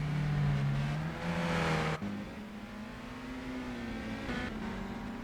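Race cars in Gran Turismo 4 drone steadily around the track during a long race, a continuous engine whine that swells briefly with acceleration and holds a smooth, moderately loud tone.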